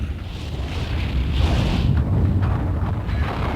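Eldfell volcano erupting on Heimaey: a loud, steady deep rumble with broad roaring hiss, continuous throughout, no talk.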